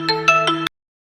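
A short ringtone melody from a Xiaomi Redmi Watch 2 Lite's find-phone feature, four bright, clear tones played in quick succession and then cut off into silence.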